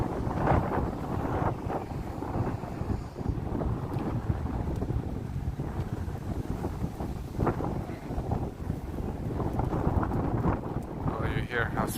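Strong wind gusting at Sheepshead Bay, Brooklyn, roaring as loud broadband buffeting across the microphone for the whole stretch, with a voice speaking intermittently under it.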